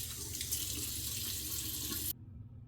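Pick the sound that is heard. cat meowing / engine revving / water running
water running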